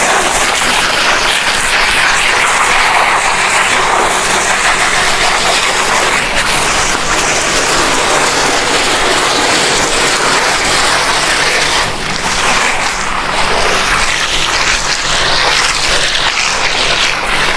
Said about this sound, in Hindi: वाल खोलो, मोटर ऑन करो।